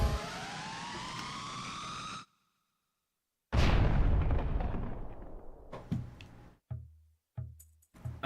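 Rocks exploding in the video game Zelda Wind Waker, a sharp loud blast with a long rumbling decay after a sustained tone cuts off, followed by several shorter booming bursts and crackles.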